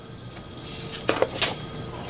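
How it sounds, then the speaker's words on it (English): A telephone rings faintly in a quiet room, two or three brief electronic trills over a low steady hum. "Be right back, phone's ringing."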